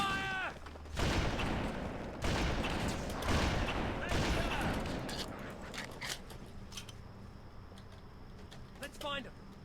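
Halo: Combat Evolved gunfire comes in dense bursts of rapid shots, loud at first and then trailing off into scattered cracks and clatter. Brief voices break in at the start and near the end.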